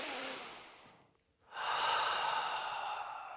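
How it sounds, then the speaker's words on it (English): A slow, deep breath drawn in through the abdomen, heard as a steady airy rush close to the mic, with a short pause before a longer, fuller breath follows. "Take a deep breath in with me right now."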